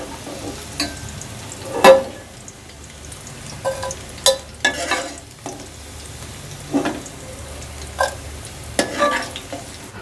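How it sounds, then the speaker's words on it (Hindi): Okra frying over fairly high heat in a pan, a soft low sizzle broken by intermittent clinks and scrapes of stirring, close and fairly quiet. "जी भिंडी को मैंने 4 से 5 मिनट थोड़ी तेज़ आंच पे फ्राई किया है।"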